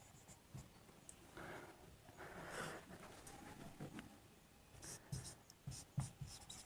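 A capital letter F being written in brackets on a board, soft scratchy strokes with light tapping and rubbing, faint and close in a quiet room.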